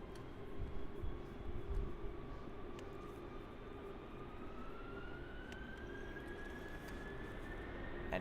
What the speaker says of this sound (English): now we have the Delta Airlines A330-200 takeoff